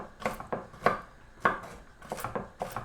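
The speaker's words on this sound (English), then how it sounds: "Chop them up." Toasted walnuts being chopped with a knife on a board, a series of about seven crisp, irregular chops with short pauses between them, close and clear with no talking.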